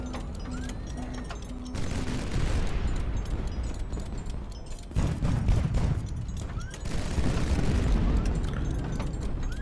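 Battle in the Highfleet video game: a loud barrage of booms and rapid gunfire as incoming shells are shot down, with dense overlapping blasts and mechanical clatter rising in bursts throughout.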